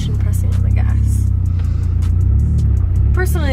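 A manual stick-shift car is reversing as the clutch is let off and gas applied, so the engine hums steadily and loudly with a low, even drone. Faint higher whines and clicks come through near the end.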